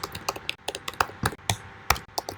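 Fast typing on a computer keyboard while writing JavaScript code, a close, crisp run of uneven key clacks in quick irregular bursts with brief pauses, alone.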